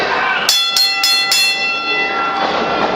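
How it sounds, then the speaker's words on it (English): A wrestling ring bell rings four quick, sharp clangs in a row against a steady noisy arena background, with a faint ringing tail afterwards. "The referee should be calling for the bell anytime now"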